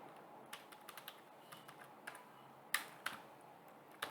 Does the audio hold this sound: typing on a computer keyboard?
yes